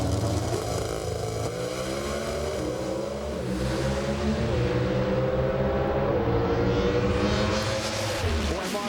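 NHRA pro stock drag race cars make a run at the 2006 Torco Racing Fuels Nationals, a loud, sustained engine roar with layered rising and falling tones that surge and shift throughout.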